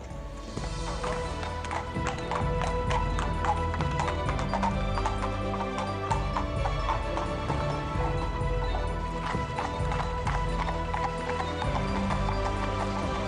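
Several horses clop along steadily, hooves tapping in a busy overlapping rhythm on a hard road, with wheels or harness rattling and an occasional whinny, continuous and fairly close throughout.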